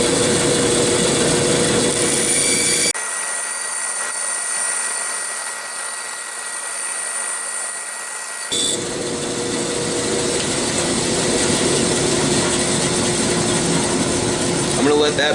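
A band saw runs steadily with a broad whirring hum, easing to a lower drone as a straight cut proceeds, then rising again; the motor stays loud and continuous throughout with no talking.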